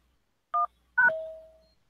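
Two telephone keypad beeps sound alone: a brief dual-tone press, then after a pause a longer tone that fades slowly.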